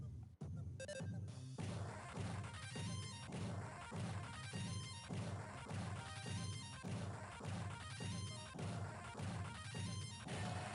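Rapid, repeated impact hits of a Mother 3 battle combo land in time with loud, dense game music, the thuds steady and continuous.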